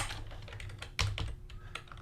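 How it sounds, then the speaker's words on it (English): Someone typing code on a computer keyboard, quick irregular clicks with a louder burst of keystrokes midway, close up with no voice over them. "Yes, she's typing this."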